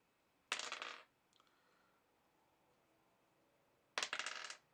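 Dice are rolled for damage during a tabletop role-playing game, giving two separate rattling tumbles about three seconds apart, each lasting around half a second, in a quiet room.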